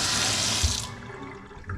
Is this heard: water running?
yes